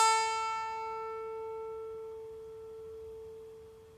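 A single plucked note A tuned to 440 Hz, played on the top string of a guitar at the fifth fret, rings out alone and decays slowly over about four seconds with clear, steady overtones.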